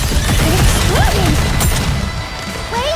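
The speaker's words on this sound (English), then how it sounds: "Exploding." Explosions and gunfire in a multiplayer shooter video game, with dense crashing bursts and a sharp blast about halfway through, layered over whistling, chirping effects and constant loud game noise.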